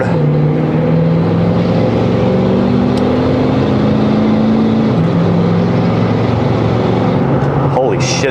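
A tuned Ford 6.7L Powerstroke diesel truck accelerates hard from inside the cab, a loud steady engine drone climbing in pitch, then dropping abruptly at a firm shift before climbing again, with a voice speaking over it.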